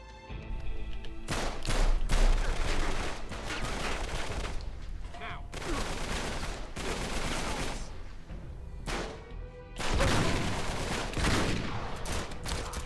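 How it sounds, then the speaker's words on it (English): Sawn-off shotgun fire in Uncharted 3: Drake's Deception, heavy booming blasts among dense, chaotic gunfire throughout, with voices talking over the shooting. "I do love the sawn off."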